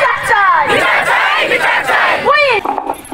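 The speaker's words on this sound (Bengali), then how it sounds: "উত্তর দিনাজপুরে কালিয়াগঞ্জ বিডিও অফিস বিক্ষোভ দেখায় বিজেপি কর্মীরা" Crowd of BJP workers protesting outside the Kaliaganj BDO office in Uttar Dinajpur, loud continuous chanting and shouting voices with rising cries, close and dense, dropping away near the end.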